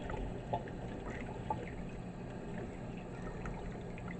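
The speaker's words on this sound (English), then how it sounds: "I'm going to wash my hands" Running tap water splashing steadily over hands during handwashing in a home kitchen, a continuous close wash of pouring and trickling with a couple of small splashes, no voices.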